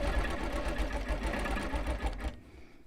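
Long arm quilting machine stitching a quilt binding right to left at moderate speed, a steady rapid mechanical chatter with motor hum running continuously, then stopping abruptly near the end.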